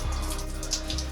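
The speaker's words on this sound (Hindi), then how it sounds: "मेरे पानी गिर गया यार, शिट भाई सर धोना पड़ेगा" Water pours steadily over a man's head inside a toilet room, a continuous close splashing wash with no pause or talk.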